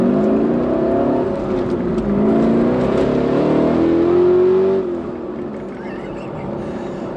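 A Walkinshaw Performance VXR8 on an open road accelerates hard, its engine note climbing in pitch through a loud, sustained roar before easing off to a quieter drone.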